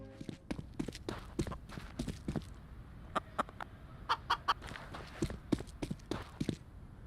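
Chickens in the video game Splitgate cluck in a busy series of short, sharp calls, some clustered and some scattered, close and clear with a faint background bed.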